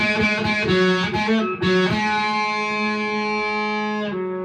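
A single distorted electric guitar note, second fret on the G string, rings out after a few picked notes, sustaining steadily for several seconds before fading near the end.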